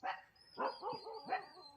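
Several dogs barking in a forested valley in the morning, yips and barks in uneven bursts with a whimpering edge, at moderate distance over a faint high insect-like whine.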